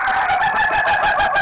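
Rooster crowing sound effect played over radio, a loud, strained, rhythmically pulsing call with repeated harsh bursts, heard alone without talk.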